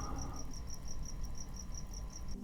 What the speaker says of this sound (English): I think there's a cricket in this room.